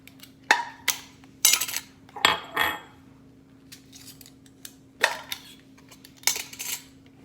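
Glass jars handled while making body butter, giving sharp clinks and knocks in irregular bursts, close and fairly loud with quiet gaps between.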